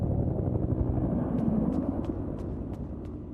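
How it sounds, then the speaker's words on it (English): An evacuation helicopter in the video game Peridium gives off a steady, loud low rumble with a faint pulsing beat that holds for the whole stretch. "yes that's the इवैक chopper"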